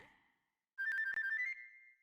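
A short chiming jingle plays when a red feather is picked up in the video game Banjo-Kazooie, a bright tonal flourish of about a second after a brief quiet gap, clear and alone.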